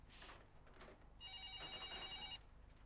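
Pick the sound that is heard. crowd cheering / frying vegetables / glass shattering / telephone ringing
telephone ringing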